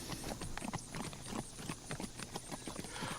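A horse named Bessie runs with a quick, steady clip-clop of hooves, a sound-effect gallop of rhythmic knocks that continues evenly throughout at moderate loudness.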